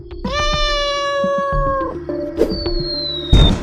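A cat meows at night, loud and close: a long wailing yowl followed by a second rising cry, with small scuffs and a thump around it and no talking.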